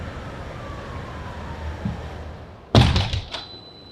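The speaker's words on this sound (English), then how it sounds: "Ah, there's that city noise. There's the city." A door opens onto a New York City street: a low, even rumble of distant traffic, then a heavy thunk as the door swings, and a burst of louder street noise with a thin, tonal ring fading afterward.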